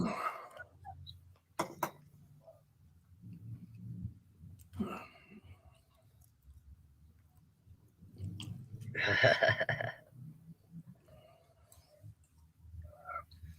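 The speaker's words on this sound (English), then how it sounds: "I'm still chewing" A person chewing food up close, with wet, irregular mouth sounds coming in bursts, one louder stretch near the end, and faint murmurs and other small noises in between.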